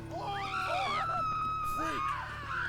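Shrill, wavering screams and wails from creatures in The Witcher 3, several rising and falling cries overlapping at close range against a steady low ambient hum, with no talk over them.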